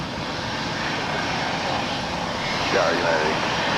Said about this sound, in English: This is a NetJets flight 152 coming in from Seattle. It's a Global 600